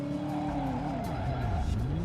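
A car in the video game Driver swings through a 180 with a sustained tire squeal over a droning engine, the pitch sliding down and back up as the car turns, loud and continuous with no talk.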